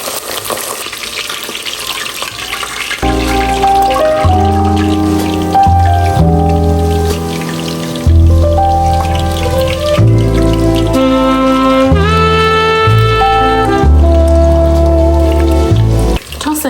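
Cheesy egg-coated kebabs fry in hot oil with a continuous sizzle, heard under prominent background music.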